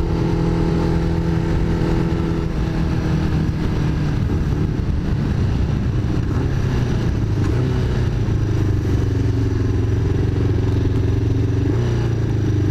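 A custom motorcycle engine runs loud and steady close by, its pitch rising and falling as it revs, with a sharp jump in tone near the end.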